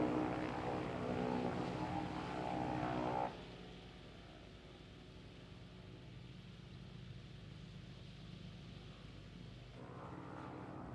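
Steady propeller drone of a PZL Vilga light plane's engine in a flight video game, loud and continuous throughout, dropping slightly in level partway through with no talk.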